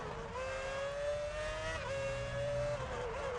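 A Ferrari Formula 1 car in the F1 Championship Edition video game screams through the 130R at Suzuka, a high, steady engine whine that climbs in pitch, dips at a gear change, then climbs again, continuous and fairly close.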